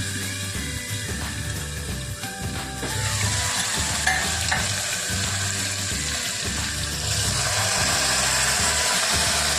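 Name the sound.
tempering curry leaves sizzling in oil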